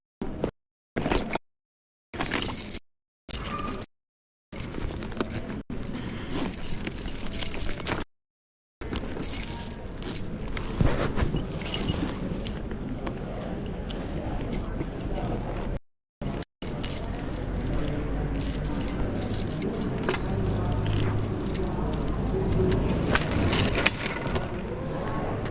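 Keys jingle and clink in short bursts between abrupt cuts, followed by a longer stretch of rustling, handling and background street noise that sounds close and uneven.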